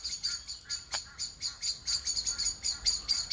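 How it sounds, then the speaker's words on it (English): Birds sing on an early morning walk, a series of bright repeated chirps and whistled calls in a steady rhythm, clear and moderately close over quiet outdoor background. "It doesn't get more magical than a bird song early in the morning"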